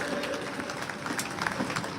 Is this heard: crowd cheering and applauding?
yes